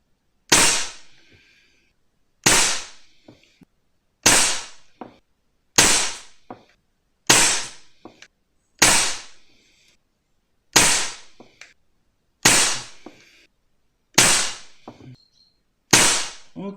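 Ten suppressed air rifle shots fired with JSB RS Diabolo pellets through a Black Ops Soul Langley silencer, each a sharp crack with a short ringing tail, spaced evenly about every two seconds, loud and close with no talking.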